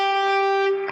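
A single sustained distorted electric guitar note with strong harmonics rings steadily near the G string's 12th fret, part of a riff, fading slightly at the end.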